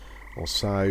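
Frogloks croak in the EverQuest game world, a short, fairly loud burst of bright noise followed by a throaty, buzzing croak, with a brief spoken phrase just before.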